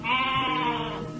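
A goat bleats in a drawn-out, wavering cry, close and fairly loud, as it lies tangled in bushes in an Indonesian radio drama scene.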